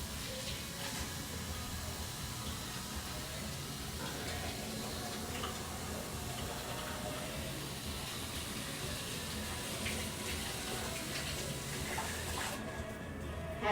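Vegetables are rinsed under a running kitchen tap, with a soft, steady hiss and splash of flowing water that carries on quietly and evenly at moderate distance.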